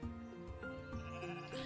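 Sheep in the video game Equilinox bleat repeatedly over a layered musical game soundtrack, heard quietly with no one speaking.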